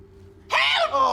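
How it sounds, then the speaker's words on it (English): A person lets out a sudden loud, strained scream that starts abruptly, holds briefly, then dips and trails off into a rougher, groaning cry, close and alone after a quiet start. "he starts screaming out into the wind"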